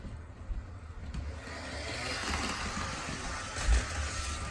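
An HO scale model train engine runs at full speed on a layout, giving a steady close mechanical whir and rumble with a brief louder bump near the end.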